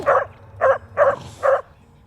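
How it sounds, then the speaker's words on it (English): Cerberus, the dog in the video game Hades, gives four evenly spaced short barks or woofs, clear and close, with brief gaps between them. "you have to pet the dog, Cerebus"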